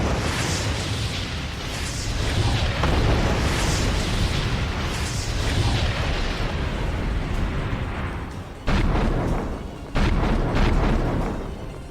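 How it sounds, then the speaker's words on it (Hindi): Heavy bombardment in eastern Ukraine during the Russia-Ukraine war, with repeated loud booming explosions rolling into one another and long rumbling blasts, then a sharp cutoff and fresh detonations near the end. "रूसी सेना ने उत्तरी कॉन्स्टेंटिनोवा में भारी बमबारी की है।"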